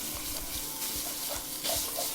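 Sweet and hot Italian sausage frying in a pan, a steady close sizzle and crackle with small pops throughout and a slightly louder burst near the end.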